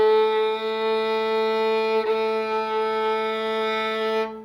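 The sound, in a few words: violin playing A, first finger on G string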